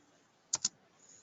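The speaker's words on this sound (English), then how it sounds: "What is the information that I am typing here?" Two quick, close keystrokes tapped on a computer keyboard in a quiet room, crisp clicks a fraction of a second apart.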